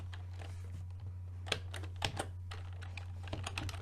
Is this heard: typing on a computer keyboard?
yes